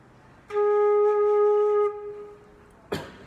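A single sustained flute note, A flat, rings steady for about a second and a half, then fades, followed by a brief soft breathy sound.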